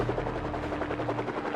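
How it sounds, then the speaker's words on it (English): Air Force CH-53 helicopters lifting off before dawn, a steady close rotor and engine roar with rhythmic blade chop running throughout at a constant level. "At 4:15 in the morning, Air Force CH-53 helicopters take off and head for Koh Tang Island"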